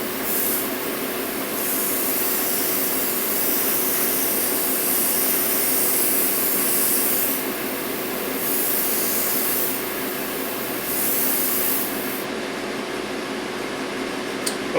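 An airbrush spraying a second coat of primer onto a scale model, giving a steady close hiss that runs almost without a break, swelling slightly in a few bursts, with no voices over it.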